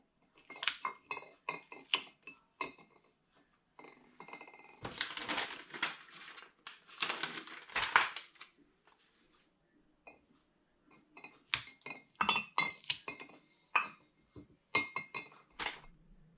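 Glass bottles of ginger hard cider being handled up close, with repeated sharp clinks, knocks and crinkly rustles in scattered bursts separated by short quiet pauses.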